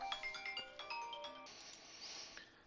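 A mobile phone ringtone chimes in a rapid melodic pattern of bright electronic tones, then shifts into a brief hissy, noisier passage; fairly faint, with no voices over it.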